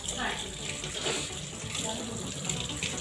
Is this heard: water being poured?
yes